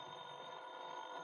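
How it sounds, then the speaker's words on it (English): A telephone rings in a 1956 radio drama, heard as a steady, faint, tonal trill that holds briefly without pause and with no voices over it. "the phone rang"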